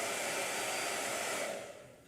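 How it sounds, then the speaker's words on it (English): A blow dryer roars steadily and close while drying a hot press sketchbook page, then fades down as it switches off near the end. "I think we're going to answer that one once the blow dryer's done."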